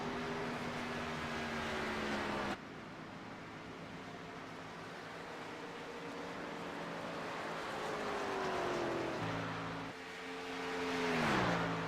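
Race car engine droning steadily at speed around a track, its pitch holding, then dipping and climbing again as the car shifts and accelerates, with constant road and wind roar throughout.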